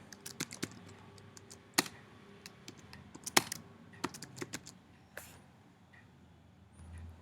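Irregular keystrokes tapped on a computer keyboard while entering an email branch name in a mobile app tutorial, with sharp clicks scattered over about seven seconds against a quiet background and no talking.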